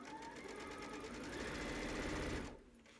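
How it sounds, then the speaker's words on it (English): A sewing machine runs a quarter-inch pillowcase seam with a close, steady mechanical whir that stops abruptly near the end. "Okay, I'm going to sew it through right now."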